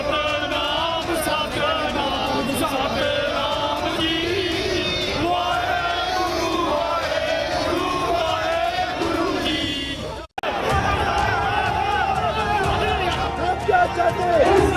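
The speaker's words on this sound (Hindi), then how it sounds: "इस भीड़ में सिखों के अलावा सभी समुदाय के लोग शामिल थे और एक स्वर में सुपिंदर को श्रद्धांजलि दे रहे थे।" A large mixed crowd of mourners and protesters in Jammu and Kashmir chants and shouts in unison, a loud continuous roar of many voices with a brief break before the chanting resumes.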